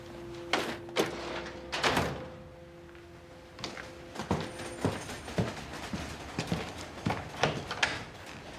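A stuck door being tried without opening, a series of close knocks, rattles and thuds as the handle and frame are worked, spaced irregularly with short pauses, no speech.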